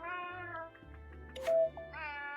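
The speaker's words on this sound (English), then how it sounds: "If you hear cat sounds, that's my full body calibrating." A cat meows twice around a brief sharp noise, its voice rising and falling over a low steady hum, close and fairly clear, with no talk.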